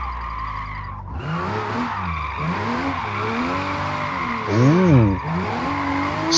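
A Toyota GR Supra drifts sideways in Forza Motorsport, its engine droning steadily with rising and falling pitch as tires squeal through a long slide, swelling louder near the end while a voice briefly exclaims.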